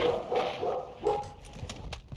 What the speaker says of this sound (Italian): C'è un cane, sento un cane io.